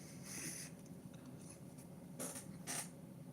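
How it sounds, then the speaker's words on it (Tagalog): Chair creaking indoors, a few short faint creaks in quiet room tone, no talk. "Yan, agik ng upuan, naririnig nyo ba?"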